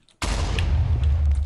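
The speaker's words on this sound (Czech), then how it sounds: "dneska uděláme totální záplavu meteoritů" A sudden loud meteor explosion in the modded Minecraft Hexxit game bursts in after a brief silence and holds as a dense, sustained roar for over a second, with no talking.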